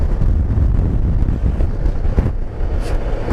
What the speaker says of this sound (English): You can hear that wind tonight, but she's really starting